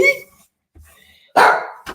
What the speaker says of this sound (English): Don't bark at me.